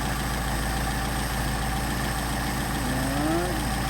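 A Mercedes 190SL engine idling on Solex 44PHH carburetors, a loud, steady close-up rumble with an even low pulse throughout and a brief rising whine near the end.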